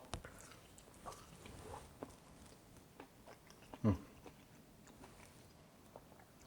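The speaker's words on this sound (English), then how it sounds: "I'm afraid I'm going to have to eat this in front of you" Someone bites into and chews hickory-smoked pork baby back ribs cooked on a Traeger pellet grill, with soft chewing and one sharp bite sound midway, quiet and close.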